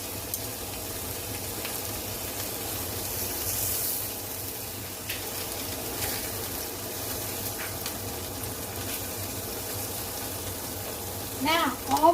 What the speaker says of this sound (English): So I'm going to fry these up